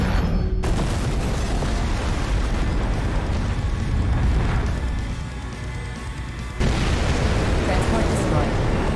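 Transport craft exploding in DAEMON X MACHINA, a loud rumbling blast and roaring debris noise that dips briefly before surging again, dense and sustained with voices mixed in.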